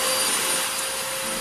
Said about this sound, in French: allumer l'aspirateur